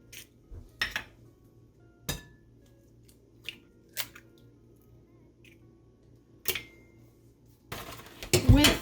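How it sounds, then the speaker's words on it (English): Eggs and sugar creamed together in a bowl, heard as sharp clinks and taps of utensils against dishes at irregular intervals, with a busier burst of clattering at the end. "you have to cream the eggs and the sugar together"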